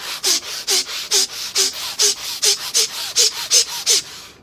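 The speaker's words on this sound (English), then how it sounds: "The first stage is chaotic breathing. So it's in and out through the nose." Rapid, chaotic breathing in and out through the nose as a breathwork exercise: about a dozen sharp, evenly paced nasal breaths in quick succession, close and loud, with no talking.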